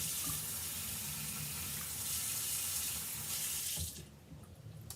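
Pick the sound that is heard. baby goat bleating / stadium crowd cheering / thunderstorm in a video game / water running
water running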